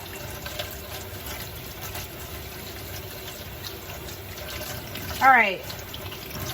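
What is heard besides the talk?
tap water running while rinsing hands at sink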